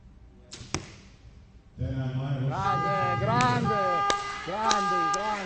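Arrows thud into the target at an indoor compound archery world championship final, with sharp separate impacts set against a loud crowd and an announcer's voice that swell after the first hit.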